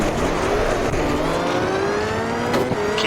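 A rally car engine in the video game Richard Burns Rally revs continuously and loudly, its pitch climbing steadily as the throttle holds high for the full stretch.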